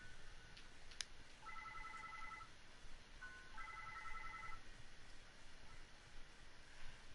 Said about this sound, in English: Suddenly, it seemed like Shiori's cell phone started ringing.